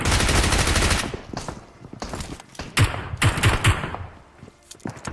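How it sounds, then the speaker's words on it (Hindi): Heavy gunfire in the video game PUBG, a loud burst of rapid shots at first, then scattered single and clustered shots echoing with short gaps between them, no voices. "भाई साहब गोलियों की आवाज बंद ही नहीं हो रही"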